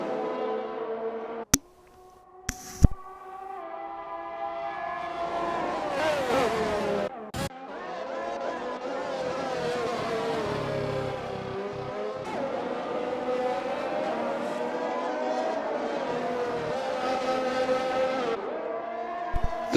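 F1 race cars roar through a racing video game at the Belgian circuit, a sustained high engine whine rising and falling with gear changes, and a few sharp clicks early on.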